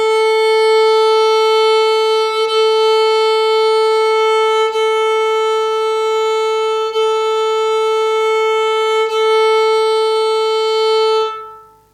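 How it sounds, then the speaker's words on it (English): Reference tuning pitch A4 for a violin's A string, a single steady sustained electronic tone held loud and unchanging for about eleven seconds before fading out. "Starting off with the A, it should sound like this. A4."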